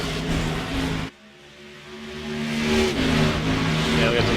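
Several NASCAR race cars run close together on the Dover track in iRacing, a dense engine roar that drops out abruptly for a moment, then returns and swells steadily as the pack drives on, with a voice talking over it.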